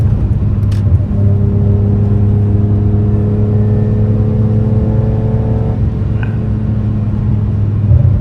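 A BMW E46 M3 accelerates hard through an orange traffic light, its engine a loud close rumble with a steady rising tone, heard from inside the car, easing off near the end.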